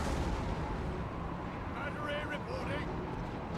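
Artillery guns boom in Napoleon Total War video game, a dense low rumbling barrage that stays fairly distant and muffled, with a voice talking over it.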